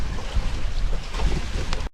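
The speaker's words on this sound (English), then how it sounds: "all you can hear is the waves, like a little bit of waves lapping over the sand and my feet in the water" Small waves lapping over sand at the water's edge in the Bahamas, with light wind buffeting the microphone; a steady, close wash of surf and breeze without talk.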